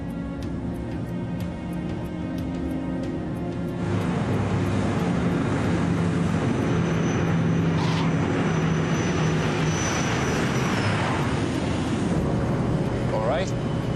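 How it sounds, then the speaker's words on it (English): An airliner lands at Aberdeen with reverse thrust, heard from inside as a loud, steady engine roar that swells after a few seconds and holds, with cabin rumble and a short voice near the end. "The landing was smooth in Aberdeen."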